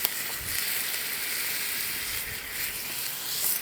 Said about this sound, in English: My oxtail is searing